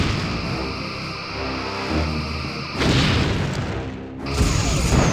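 Torpedoes striking a station in the Star Trek Bridge Commander space combat game, a low rumbling boom with a sustained mechanical hum, then two sharp bursts of noisy impact in quick succession.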